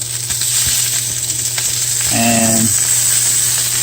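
A venison steak is laid into a hot cast iron pan with olive oil and sizzles steadily and loudly up close, a brief voice cutting in near the start.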